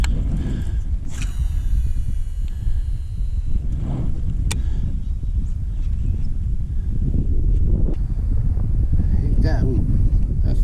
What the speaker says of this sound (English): That's definitely a pickup in the wind there.